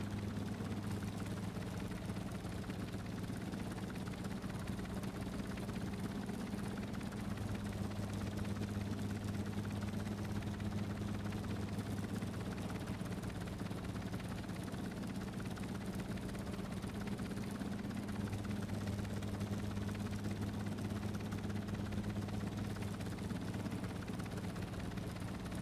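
A helicopter engine in Stormworks: Build and Rescue bogging down under load, a steady low droning hum with slight shifts in pitch, continuous and fairly faint, with no talking.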